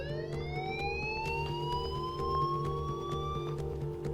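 A continuous wailing alarm sounds inside the Life Is Strange game, a rising electronic tone that climbs steadily and stays loud and close, with rhythmic ticking clicks and a steady low hum underneath.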